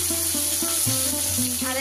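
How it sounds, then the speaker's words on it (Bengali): Food fries in a pan in a home kitchen, a constant close sizzle running beneath brief tonal sounds. "একবারে ভাজা হলো না, দুবারে ভাজতে হবে।"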